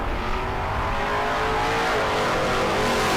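Drag race cars, an Anglia and a 1973 Nova, launch at bracket racing with a dense, loud, sustained engine roar and throttle rip filling the whole moment, no talking.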